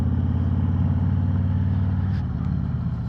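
A motorcycle with a 114 engine idles close by, a steady deep rumbling throb with even low pulses and no revving, running alone without voices.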